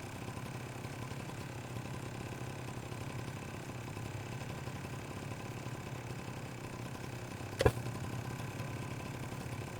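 A generator in a Rust base hums steadily at a constant idle, with one sharp click or knock partway through and no talk.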